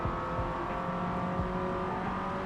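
A car drives across a bridge in Forza Motorsport 7, a sustained engine drone with steady harmonic tones and slight pitch shifts, continuous and fairly loud without talk.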